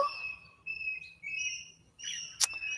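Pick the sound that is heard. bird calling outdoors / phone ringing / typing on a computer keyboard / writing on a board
bird calling outdoors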